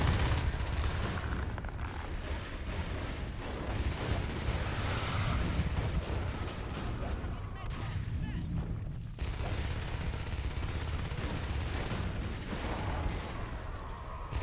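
Shotgun and rifle fire in the Natural Selection multiplayer shooter, rapid overlapping bursts of gunfire with mechanical clatter running continuously at a moderate level, with brief drops in the barrage.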